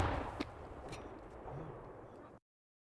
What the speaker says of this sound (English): I want to see where the explosion came from.